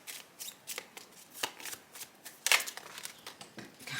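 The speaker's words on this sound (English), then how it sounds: "I keep dropping cards." Tarot cards are shuffled by hand in a series of quick riffling bursts and soft slaps, with a sharper clatter midway as cards drop, close and fairly quiet.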